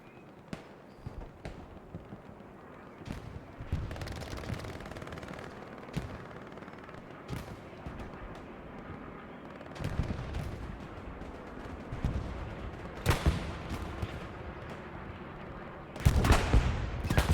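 Gunshots during a competitive video game match, scattered single shots and short bursts of fire, some near and sharp, others distant, building to heavier volleys near the end, under faint commentary.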